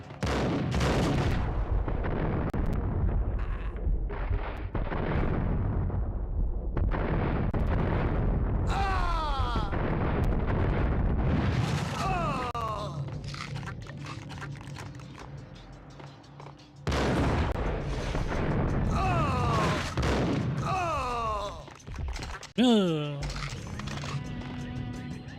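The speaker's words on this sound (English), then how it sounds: "Why is this guy already shooting?" Enemy gunfire in the Max Payne game: loud bursts of shots and booming blasts in rapid clusters, pausing briefly midway before another volley, with a voice speaking over parts of it.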